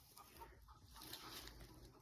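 Chicken clucking out in a garden, a few soft clucks mixed into steady outdoor background noise, moderately distant and fairly quiet, with no one talking.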